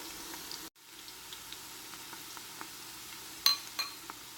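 Olive oil sautéing in a pan for marinara, a steady low sizzle running throughout with a few faint clinks and a brief sharper clatter near the end.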